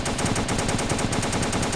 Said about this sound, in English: Jake, or Klaus, as we like to call him, is marking the target with tracer rounds.